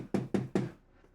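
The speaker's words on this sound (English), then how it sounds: "You hear a knock on the door." Three sharp, evenly spaced knocks on a door, close and solid, followed by quiet.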